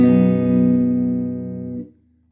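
Guitar strumming a full barre chord on the second fret in standard tuning without a capo: one strum ringing out for nearly two seconds, then muted.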